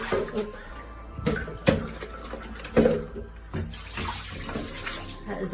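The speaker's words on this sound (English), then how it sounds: "That is all the water that is pulled out of the air, really just this morning" Water collected in a dehumidifier tank is poured out into a shower, giving uneven splashing and gurgling bursts that swell and fade, fairly faint with room noise between pours.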